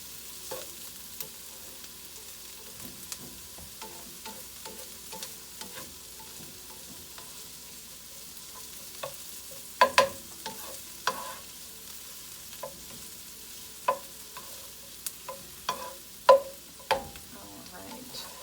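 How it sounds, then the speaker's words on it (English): Pre-cooked meat fries in oil in a pan for fried rice, a soft steady sizzle broken by sharp scraping clicks and taps of stirring that grow more frequent toward the end. "you just want to get that pre-cooked meat heated through"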